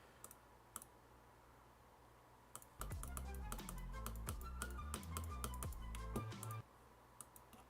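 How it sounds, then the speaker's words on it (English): Computer keyboard keys click rapidly during a Geometry Dash session, faint scattered taps at first, then a dense run of quick presses over a soft low hum, easing back to sparse clicks. "I was pressing the wrong keys there"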